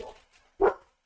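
Puppies bark briefly, a soft yip followed by one louder short bark, then quiet.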